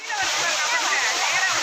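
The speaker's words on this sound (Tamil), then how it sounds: "அருவி எப்படி விழுதுன்னு மட்டும் பாருங்கள்" Courtallam (Kuttalam) waterfall pouring down, a steady, close, dense rush of falling and splashing water that fills the whole moment without a break.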